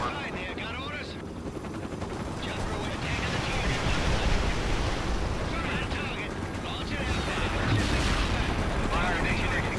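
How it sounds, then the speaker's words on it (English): Artillery strike in the war strategy game World in Conflict: sustained rumbling barrage of explosions and gunfire, loud and dense, with a louder burst near the end. "Fire mission executed. There we go. Artillery strike completed."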